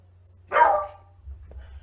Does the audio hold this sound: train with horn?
no